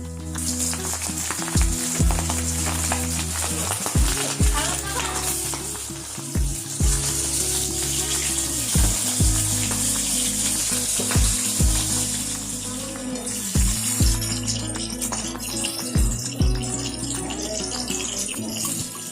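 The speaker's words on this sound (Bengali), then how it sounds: "মাছগুলোকে আগে কড়াইতে তেল গরম করে সাঁতলে নিচ্ছি" Loud, close sizzling of fish frying in hot oil in a kadai, with repeated clanks and scrapes of stirring against the pan throughout.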